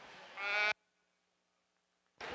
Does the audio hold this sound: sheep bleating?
yes